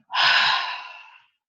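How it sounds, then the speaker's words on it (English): A slow, breathy exhale through a wide-open mouth during a breathing exercise, a single airy rush that starts strong and fades out over about a second, close and alone. "Exhale."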